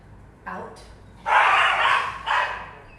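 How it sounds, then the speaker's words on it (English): Several dogs outside give short barks and yips, then a longer, louder burst of barking, with whimpering between. "Don't mind the dogs."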